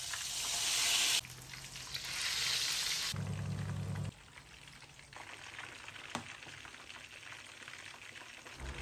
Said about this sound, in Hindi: बस अब चिकन होगी फ्राई।